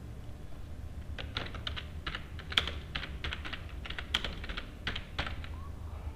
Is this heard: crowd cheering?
no